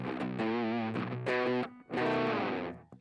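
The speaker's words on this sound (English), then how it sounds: "So that's kind of the lighter distortion side of the pedal." Electric guitar plays through the lighter, green drive side of a two-sided distortion pedal with a Tube Screamer-like tone, loud sustained overdriven chords with a short break before a final ringing strum.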